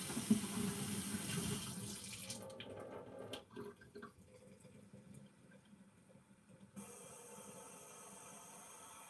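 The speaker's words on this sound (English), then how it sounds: "So now we're going to add cold water to this, but do it slowly so you don't break this." Cold water from a tap pours slowly into a coffee pot, a rushing splash at first that stops after a couple of seconds, then faint trickles, clinks and quiet handling noise with no talking.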